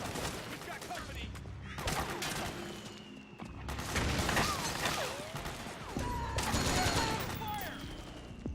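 Heavy sustained gunfire in the combat game Metal Gear Solid 4: Guns of the Patriots, loud, rapid overlapping bursts of automatic fire rolling on throughout, with soldiers' voices shouting in between.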